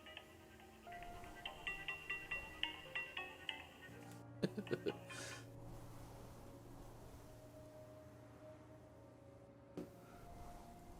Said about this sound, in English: It is the cell phone ringtone of a video game character